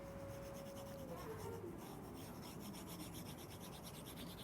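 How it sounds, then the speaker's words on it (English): Eraser or cloth rubbing across a classroom board during an algebra lesson, a steady continuous scrubbing rasp at close range lasting several seconds, with no talking. "Let's erase some of this so we have room."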